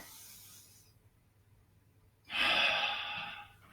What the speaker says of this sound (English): And breathing in again.